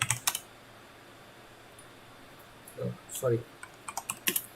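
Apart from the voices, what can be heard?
typing on a computer keyboard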